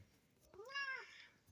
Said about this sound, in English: There's my favorite cat.